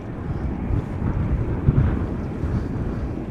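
Wind gusting across an outdoor spot at Schiphol Airport, a loud, steady low rumble buffeting the microphone, with a brief stronger gust midway.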